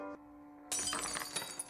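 A glass dropped on the floor shatters with a sudden bright crash after a steady tone, followed by scattered tinkling fragments settling.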